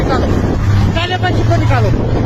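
Gusting windstorm wind in Gulmarg batters the microphone with a steady loud roar while people shout urgently nearby.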